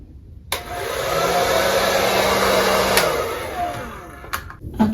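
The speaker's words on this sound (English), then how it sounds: "Let me blow dry my hair first" A hair dryer roars steadily at close range for several seconds while blow drying hair, starting abruptly and easing off near the end, with no talking.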